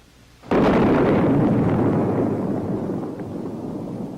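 A Bullpup air-to-surface missile strikes its target, a single sudden heavy blast that erupts loudly and then rumbles, slowly fading over several seconds.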